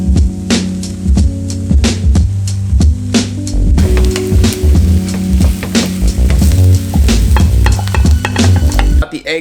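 Six whole eggs fry in a pan with a steady crackling sizzle, broken by scraping and stirring clicks, over a continuous tonal hum in the background.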